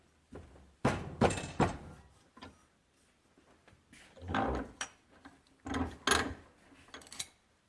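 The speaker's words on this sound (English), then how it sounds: "make sure you have permission from the local vise owner before you bang on his vise" Copper pipe for a dual band J-pole antenna being banged while clamped in a vise: a series of sharp, loud metallic thunks in irregular bursts with quieter gaps between, close by and with no talk.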